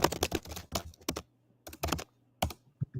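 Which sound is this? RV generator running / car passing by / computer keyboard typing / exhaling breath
computer keyboard typing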